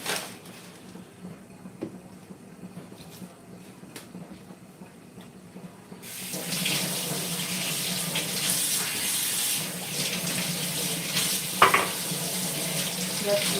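Vegetables, carrots among them, are washed under a running tap. After a quiet stretch of small handling sounds, the water starts and keeps up a steady splashing hiss, with light knocks as the produce is rinsed.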